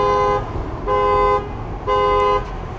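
A car alarm or horn out on the street gives three evenly spaced, loud steady tonal blasts, each about half a second, with noisy background between them.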